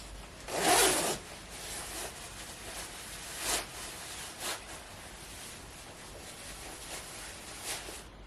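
An outer garment being put on and zipped up, with one loud, fast zipper pull near the start, then softer fabric rustles and brief scraping zips at intervals, close and with no voices.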